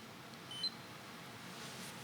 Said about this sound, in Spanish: tengo que apagar la alarma que tengo aquí